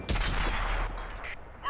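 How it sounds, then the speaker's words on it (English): Artillery fire in a tank video game with the M26 Pershing: a loud broadband blast with a booming low rumble that sustains for about a second, then fades into quieter game noise. "Artillery fire."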